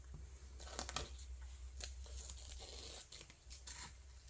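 Strips of tape peeled and torn off a resin tray mould, several sharp ripping bursts close up and fairly quiet, with no voices.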